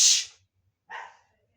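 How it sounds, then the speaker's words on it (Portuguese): A pet dog gives two short barks indoors at home, the first bright and loud, the second a bit lower and softer after a brief pause, with faint low thumps in between. "Meus cachorros estão latindo, gente."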